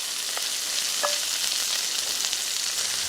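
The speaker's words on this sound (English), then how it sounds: "Now add the beef to the hot pan, lightly stirring until it's brown on all sides." Beef and tomato fry in a hot pan with a steady, close hiss and crackle. Brief clicks of stirring break through now and then, and no one speaks.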